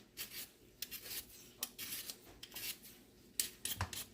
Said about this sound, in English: I have about 4 potatoes that I'm peeling.